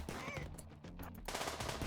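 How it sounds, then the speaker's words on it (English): Gunfire in the colony-survival game Rimworld, a burst of rapid shots crackling over a steady low game hum, loud and close through the whole short stretch. "shoot the knife wielder, please"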